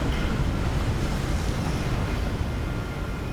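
Ocean waves in the video game Hogwarts Legacy wash and splash in a steady, dense rush of surf that continues without pause, with no voices.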